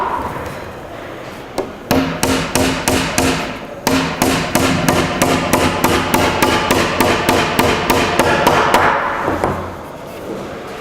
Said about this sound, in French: on vient lui planter un clou ici pour l'empêcher de ressortir